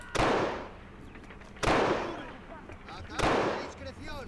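Three loud, booming gunshots in a 1924 Honduras Banana Wars battle game, each with a long echoing decay, spaced about a second and a half apart.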